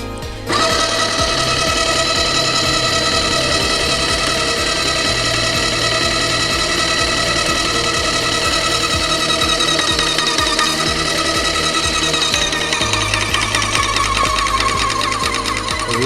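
An airless paint sprayer pump runs while building pressure toward about 300 bar, a loud, rapid, continuous mechanical clatter close by that shifts pitch and tone near the end with no talking.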